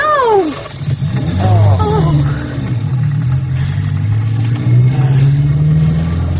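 A car engine revs hard and loud, pitch sweeping up through repeated climbs before settling into a sustained roar, with a voice briefly audible early on.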